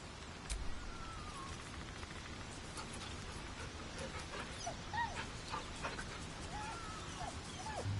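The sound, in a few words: dog whimpering in Baldur's Gate 3 video game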